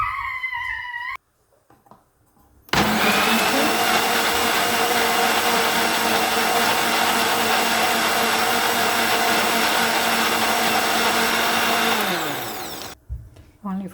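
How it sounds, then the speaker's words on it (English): An electric blender whirs cashew nuts and dried milk in one loud, steady burst of about ten seconds that winds down at the end, with brief quieter handling sounds before and after. "Only for 1 minute you have to blend it."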